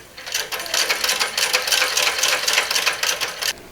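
A basic sewing machine stitches a buttonhole, its needle clattering in a fast, even rhythm that starts abruptly, runs loud and close, then stops.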